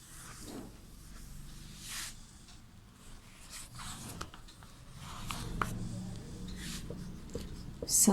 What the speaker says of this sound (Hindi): संख्यावाची शब्द लिखेंगे।